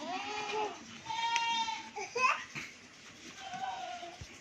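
Rajanpuri goats for sale bleat in wavering, nasal cries, several overlapping calls that rise and fall at moderate distance amid soft background noise.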